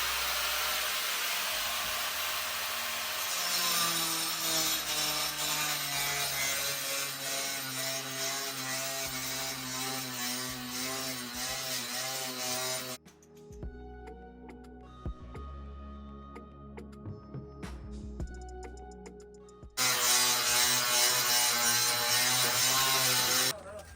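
Power grinder running steadily on wood flooring during home floor repair, a loud continuous whine for about thirteen seconds, briefly cutting out to quieter clatter, then starting up again loudly near the end.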